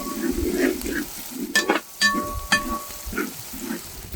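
Shallots fry in sesame oil in a pan for a Chettinad chickpea kurma, and the sizzle is broken by stirring scrapes and a few sharp metallic clinks from a spoon.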